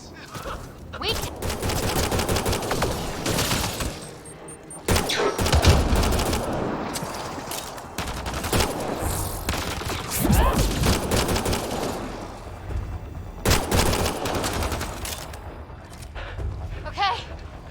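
Heavy, continuous gunfire from a firefight in Mass Effect: Andromeda, loud and dense with rapid bursts and impacts across the whole stretch, with voices shouting intermittently beneath it.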